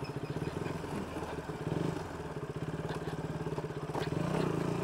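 Motorbike riding along a road in Batticaloa, its engine chugging in a steady mid-pitched pulse throughout, close and fairly loud, rising slightly toward the end.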